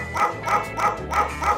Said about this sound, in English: His request is just the barking dog for 20 seconds